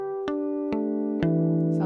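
Guitar harmonics played on the E string at the 12th fret ring out as three bell-like notes, each struck cleanly and left sustaining, close and fairly soft, with no voices.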